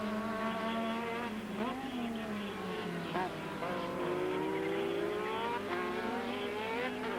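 Formula One race cars with TAG Porsche-designed V6 turbo engines screaming past at the 1985 French Grand Prix, a steady high-pitched engine whine with rising and falling pitch sweeps as cars pass, loud throughout with faint commentary underneath.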